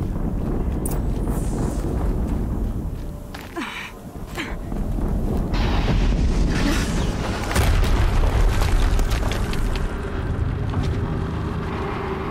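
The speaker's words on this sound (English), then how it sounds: "explosion." Explosion in the video game Horizon Zero Dawn: a deep boom rolling out over a steady rumbling, wind-like roar that continues loud and unbroken throughout, with no voices.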